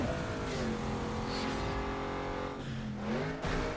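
A tuned race car engine revving hard in the racing game Need for Speed Underground 2, loud and continuous with shifting pitch as it accelerates and changes gear, close with no talk over it.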